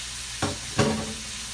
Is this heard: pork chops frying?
yes